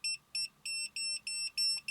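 An EMF and RF detector alarm sounds six high, piercing electronic beeps, the first two short and the rest longer, in a steady on-off rhythm, close and loud with no talk.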